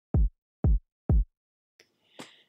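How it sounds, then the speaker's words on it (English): Three evenly spaced, booming 808 kick drum hits on the note C from an electronic drum kit in Logic Pro, each with a fast attack and a short low decay, followed by a faint click and a brief noisy burst. "opened a new software instrument and then chose electronic drum kit and 808 flex"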